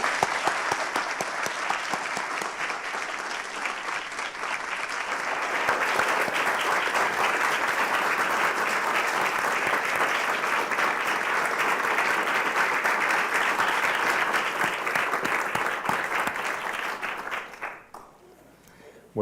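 An audience at the Reuters Memorial Lecture applauds to welcome a Nicaraguan editor to the stage, sustained loud clapping from a large crowd that swells, holds steady, then tapers off near the end.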